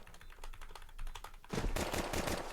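Gunfire in a Counter-Strike match, a rapid stutter of quiet shots that bursts into a louder, denser volley partway through.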